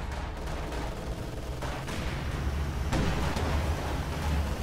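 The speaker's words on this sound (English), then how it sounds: "AT gun shot penetrates." An anti-tank gun fires in a video-game battle, one heavy blast among continuous rumbling combat noise and scattered shots, loud and close throughout.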